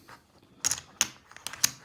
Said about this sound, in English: chips have to shuffle together reasonably well